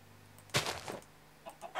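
A chicken in the Minecraft video game, attacked with a sword in creative mode, gives a short burst of clucking squawks followed by a few fainter, scattered hits and clucks over a low background hum.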